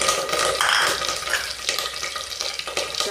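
Mustard seeds hit hot oil with green chillies in a kadhai, giving a steady, close frying sizzle with some crackle and light stirring, no talking over it.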